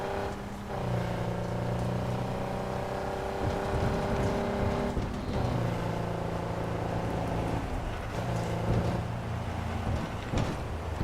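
A car driving in Cyberpunk 2077, a steady engine drone with shifting tonal hum as it accelerates, over continuous background music, with no talking.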